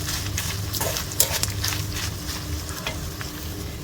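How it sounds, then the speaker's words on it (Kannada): Spices and mustard seeds fry and splutter in a pan for a stir-fry of raw mango, a dense steady sizzle with scattered crackling pops, close and continuous, no voices. "ನಮ್ಮ ಮಸಾಲೆಗಳೆಲ್ಲ ಫ್ರೈ ಆಗುವಾಗ ಸಾಸಿವೆ ಸಿಡಿಲಿಕ್ಕೆ ಶುರುವಾಗ್ತದೆ"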